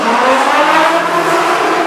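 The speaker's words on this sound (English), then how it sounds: "The launch is weaker because it's an LSN launch instead of hydraulic, but the sound is on point." A steady, loud, sustained whine from the Red Force roller coaster's LSN launch, a continuous rushing tone with no talking.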